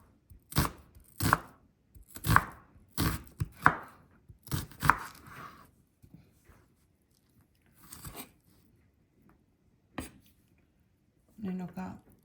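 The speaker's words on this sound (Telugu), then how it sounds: "ఇప్పుడు దీంట్లోకి ఆనియన్ కట్ చేసుకొని వేసుకుందాము. సన్నగా తరుక్కుందాము." A knife chops an onion finely on a board in a home kitchen, about ten crisp, close, evenly spaced cuts that slow and thin out toward the end, with a soft clatter near the close.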